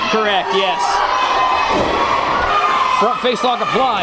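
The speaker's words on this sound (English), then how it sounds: "This crowd is vocal here tonight in their hatred towards Bo Sawyer." Wrestling arena crowd at an independent show shouts and jeers loudly and continuously, with a commentator's voice over the steady roar.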